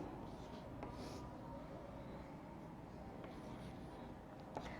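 A teacher writes numbers while working through a long division problem in a maths lesson, producing faint, continuous scratchy strokes with a few sharper ticks against a quiet room.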